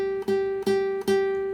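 A single guitar note on the first string at the third fret is plucked three times in a steady rhythm, clean and moderately quiet, each pluck ringing briefly.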